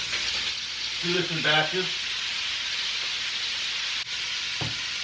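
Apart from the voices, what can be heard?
ground beef browning and sizzling in a skillet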